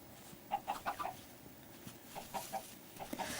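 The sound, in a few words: chickens clucking in Minecraft video game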